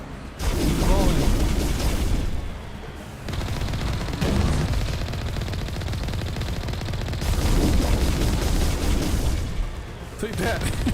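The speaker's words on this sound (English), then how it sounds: "Oh, he's shooting backwards." Bursts of gunfire from the Mass Effect video game, dense and loud, with rapid shots and booms in several clusters separated by brief lulls.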